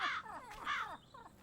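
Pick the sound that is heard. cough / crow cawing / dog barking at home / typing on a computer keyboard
crow cawing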